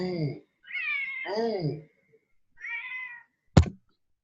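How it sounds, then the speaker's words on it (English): A pet cat meows close by, a few distinct drawn-out calls with pauses between, followed by a sharp knock; a person speaks briefly at the start. "Is that your cat?"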